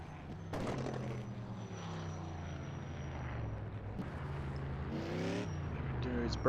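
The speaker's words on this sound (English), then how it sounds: "And he does a burnout like he has maybe done this before." A race car, the #28 Haviland Ford, does a burnout at Kansas Motor Speedway, its engine roaring loud and steady with rising and falling pitch across several seconds.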